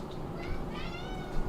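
Several cats meowing around a food bowl, short overlapping mews and a rising whine close by, over a steady low background noise.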